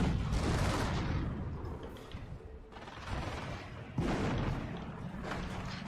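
A 17-pounder anti-tank gun fires in a WW2 video game: heavy, close booms at roughly one-second intervals, then more shots near the three- and four-second marks, each trailing into a rumbling mechanical tail.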